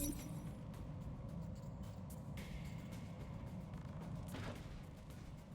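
Mech weapons firing in the battle game RogueTech: a dense, continuous barrage of cannon thumps and booms with brief sharp cracks, mid-distance and steady throughout. No voices.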